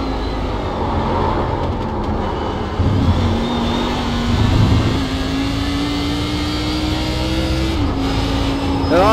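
A Porsche race car engine in the iRacing sim, heard from inside in VR as a loud, steady drone whose pitch climbs slowly and dips at gear shifts, continuous with no talking.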